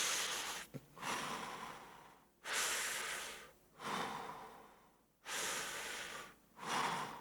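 Deep, slow breaths during a head-scooping movement exercise, four or five long inhale and exhale bursts separated by short pauses, close to the microphone.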